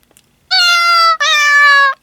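Two long, loud synthesized cat meows from a Cat Piano phone app, the first pitched slightly higher, with a brief gap between them and nothing else around.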